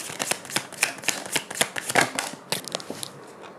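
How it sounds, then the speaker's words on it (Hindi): Tarot cards are handled and shuffled during a reading, giving a rapid, close series of crisp flicks and slaps. No voice is heard over the card noise. "कार्ड नीचे गिर रहा था"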